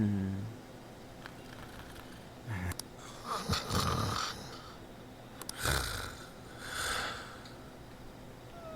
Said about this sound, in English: Peaceful breathing.